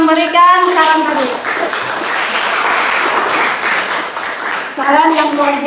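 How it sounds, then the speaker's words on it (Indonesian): A classroom audience applauds a person who offered advice during a teacher coaching session, a dense wash of clapping filling the middle stretch, with a voice speaking briefly before and after it. "Baik, kita beri aplaus untuk yang memberikan saran tadi"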